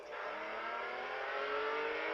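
A car engine in Test Drive Unlimited 2 hums with a smooth, sustained note whose pitch creeps upward as it accelerates, steady and unaccompanied by speech.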